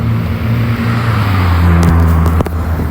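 Fast vehicles rushing past with a loud, steady engine roar and tonal hum, with a few sharp clicks and crackles near the end, close and continuous.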